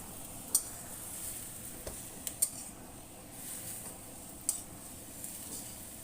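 Cabbage with anchovies being stirred in a wok, a soft scraping and sizzling bed with a few sharp clicks of the utensil against the pan, fairly quiet with no talking.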